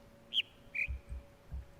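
Two short whistled bird calls from a speaker in the video game The Witness, a higher note then a lower one, fairly clear over a quiet low hum with faint thumps.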